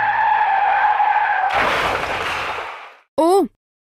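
A car drives with a steady engine hum, then breaks into a long loud tire skid that fades out, followed by a brief sharp tonal squeal; no talking.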